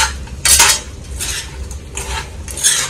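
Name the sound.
stirring chicken pickle mixture in a pan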